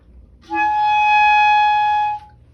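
A single sustained clarinet note, B flat played with an alternate fingering, held steadily for under two seconds with a clean, reedy tone, played alone.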